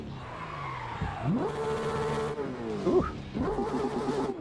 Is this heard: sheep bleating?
no